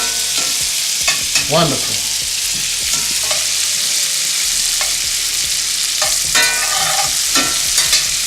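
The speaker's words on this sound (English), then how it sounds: "Got the garlic in there. Butter." Garlic sizzles loudly in melted butter in a pan while being stirred, a steady close frying hiss broken by scraping utensil strokes, and a voice speaks briefly.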